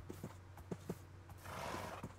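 A horse in Minecraft makes a run of quick, rhythmic hoof clip-clops, then a rough whinny-like neigh, with a faint low hum underneath, close and moderately quiet.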